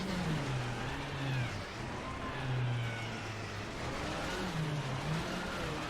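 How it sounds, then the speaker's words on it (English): Rally car engine in RSF Richard Burns Rally accelerating into a power slide, revving loudly and repeatedly rising and dropping in pitch through gear changes, close and alone without talk. "Accelerate to about 60 in second gear."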